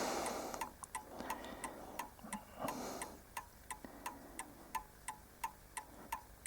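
An Anville Westminster clock with a Perivale movement ticks in a steady, even rhythm, close and fairly faint, each sharp tick clearly separated, with some soft rustling handling noise early on.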